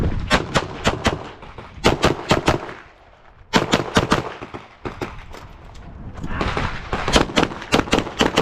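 Rapid pistol gunfire from a Glock at an outdoor shooting match, loud close bursts of quick shots in several strings separated by short pauses.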